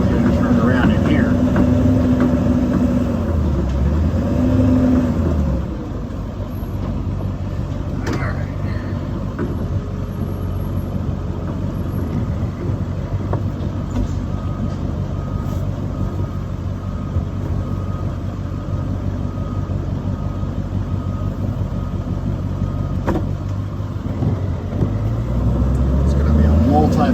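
A Ford E450 4x4 adventure truck with a 7.3L Powerstroke diesel makes a multi-point turn, its low engine rumble steady and close throughout, revving briefly at the start and again near the end, with a voice talking over it.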